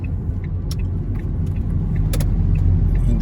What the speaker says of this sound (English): Let the car naturally slow down if you can